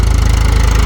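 Tractor engine running steadily during potato sowing in a field, a loud, close, continuous low chugging rumble with a fast regular pulse and no voices.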